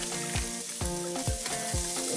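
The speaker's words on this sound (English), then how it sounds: "I'm adding the sausage to that pan over there" Already-cooked sausage sizzles and crackles steadily in a hot pan, with a few spoon or spatula stirring clanks at a regular rhythm.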